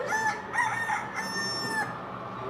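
A rooster crows as a sound effect for a radio drama during a cyclone scene, several drawn-out crows with hen clucking beneath them, fairly loud and continuous.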